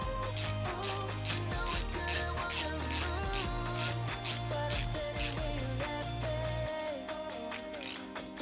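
Hand ratchet clicking in a quick steady back-and-forth rhythm while tightening bolts on a 1968 Ford Galaxie engine, close and clear, with a low hum underneath and no talk.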